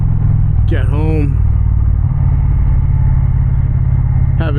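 Indian Challenger motorcycle exhaust, a loud, steady, deep rumble that holds throughout, with a brief tonal whine rising and falling early on.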